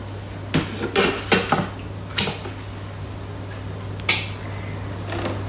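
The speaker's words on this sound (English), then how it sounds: "Put the lid on." A Thermomix TM6 lid is set in place with a series of hard plastic clacks and clicks, several sharp knocks spaced irregularly over a steady low kitchen hum.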